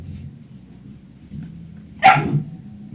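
A puppy gives one sharp, fairly loud bark after a quiet stretch of low room rumble; there is no talking.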